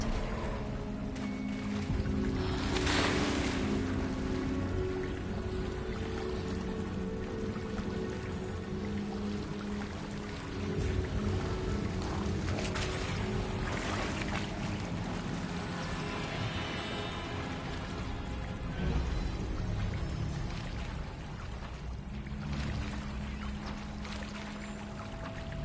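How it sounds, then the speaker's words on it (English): Water bubbles and churns steadily for a long stretch, a dense, close gurgling wash with recurring louder surges and no voices. "the water's bubbling"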